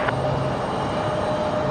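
Icelandair jet approaching Raleigh-Durham International Airport, a steady broadband engine roar with a low rumble, close and sustained with no talking.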